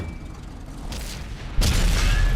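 A tank cannon shell striking an IS-3 heavy tank in the World of Tanks video game, heard as a sudden heavy boom with a rumbling tail over a steady background of battle noise.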